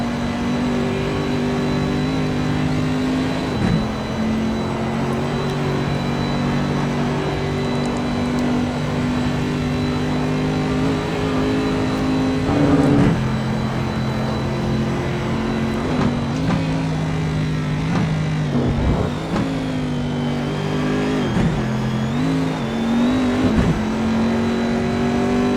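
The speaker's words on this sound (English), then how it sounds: "Take you on board now with Ronnie Nunez inside the Chevrolet Corvette C7R, brand new 2015" Engine of a brand-new 2015 Chevrolet Corvette C7R race car driven on board in a racing video game, a loud steady drone with shifting pitch and brief gear-change dips, continuous and close with no talk.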